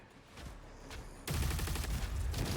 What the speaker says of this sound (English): Okay, so this is the plasma rifle.